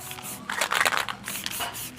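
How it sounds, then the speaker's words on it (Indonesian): Aerosol spray paint hissing from a freshly shaken can: two short, bright bursts of spray, close and moderately loud, with a brief pause between them and no talking. "Nah ini sudah dikocok begini, udah langsung semprot"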